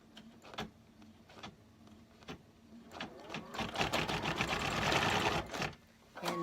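A home sewing machine stitches a placement line on GlitterFlex, starting with brief stutters and then running in a steady, dense whir that grows louder and denser before stopping. Close and clear, with no talk over it.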